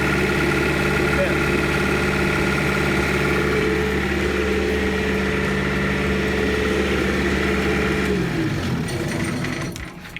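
A running generator drones steadily with a low, tonal engine hum at close range, holding even for about eight seconds before winding down and cutting out near the end.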